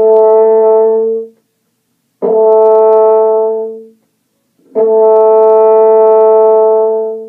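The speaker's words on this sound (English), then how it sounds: "the easiest note on horn to play" A French horn plays the same sustained open G note three times, each long tone separated by short silences, loud and close.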